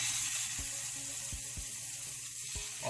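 Two strips of salmon sizzling in a hot pan over medium heat, a steady hissing frying sound with a few soft pops and clicks, close and alone.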